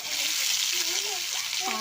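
Chopped onions frying in a little oil over a full, high flame for a boiled egg curry, giving a steady close hiss and sizzle with faint tonal voice-like traces mixed in.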